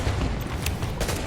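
Sniper rifle shots crack out in The Division over a dense, noisy firefight. A couple of sharp reports rise above the continuous gunfire.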